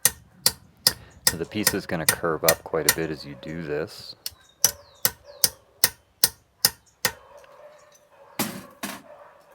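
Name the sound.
hammer blows shaping recycled copper cuff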